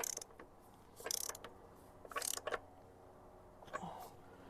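Bolts being tightened on the rear wheel of a Harley-Davidson Street Glide: quiet ratcheting clicks come in short bursts with pauses between, close to the work in a calm garage.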